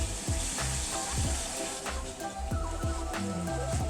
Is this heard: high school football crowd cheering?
no